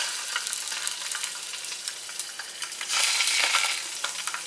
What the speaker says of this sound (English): I just want to get the sausage browned, and we get it started with some light olive oil. Put the sausages in there.